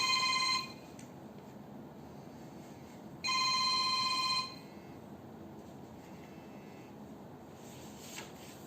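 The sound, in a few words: mobile phone ringing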